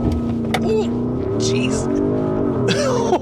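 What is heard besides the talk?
2024 Porsche Cayenne S Coupe V8 launch control acceleration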